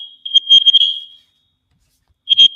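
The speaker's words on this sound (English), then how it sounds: "Yes, there is an alarm system they're testing." An alarm system under test sounds a loud, shrill electronic beeping in a rapid burst of pulses, then falls silent for about a second before sounding again.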